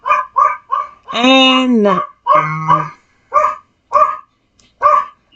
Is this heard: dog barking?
yes